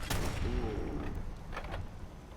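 Gunshot in Fallout 4 Survival with mods, fired at an enemy's head: a sharp loud report at the start, followed by fainter echoing cracks and thumps as the scene continues.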